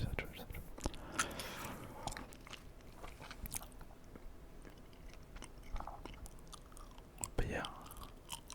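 Close, intimate gum chewing for a late-night ASMR session, with wet smacks and bites scattered through the clip under a continuous soft whispered voice.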